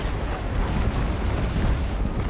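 Cannon fire from an enemy warship in the naval combat game Naval Action: a dense, continuous rolling boom of broadside blasts that stays loud and rumbling throughout with no pauses.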